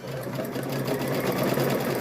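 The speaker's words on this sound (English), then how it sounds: "flip it over right sides together and sew that next strip together there" A sewing machine runs steadily and close by, joining fabric strips for a rope bowl and placemat in one continuous, even whir with no speech.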